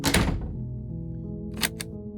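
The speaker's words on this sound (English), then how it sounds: "I heard the door slam" Heavy basement door slamming shut in the horror game Slay the Princess, a loud deep thunk that rings out briefly, followed by two sharp, quick clicks like a latch catching.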